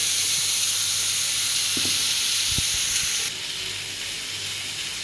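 Onion, dried red chillies and black chana fry in a hot pan for Navaratri sundal, a steady loud sizzle and hiss with a few clinks of stirring, the frying dropping slightly in level midway.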